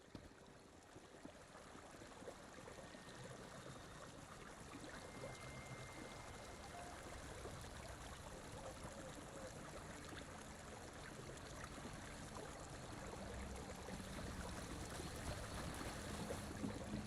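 A waterfall in the video game ESO Gold Road, a steady broadband rush of falling water, faint and unbroken, swelling slightly louder over time with no voices.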